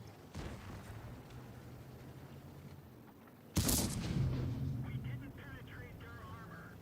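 A tank cannon in the World of Tanks video game fires a gold round: one sharp, loud blast midway that decays into a rumbling tail, preceded by quieter game engine noise.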